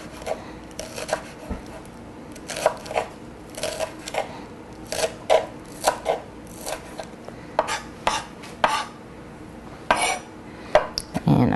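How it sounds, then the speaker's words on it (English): A knife chops scallions, greens and all, on a cutting board in a kitchen, a brisk, irregular run of sharp close knocks against the wood, some quick pairs and clusters, over a faint steady hum. "And we've got 2 scallions, and I'm just going to cut it into thirds here."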